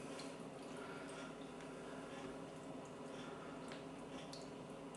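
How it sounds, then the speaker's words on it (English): Distilled water pours over a telescope primary mirror in a steady, even rinse, a constant splashing hiss with faint drips, no voices. "just give it a good rinse with the distilled"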